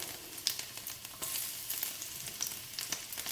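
Garlic fries in hot oil with a continuous bright sizzle and scattered crackling pops, with no talking.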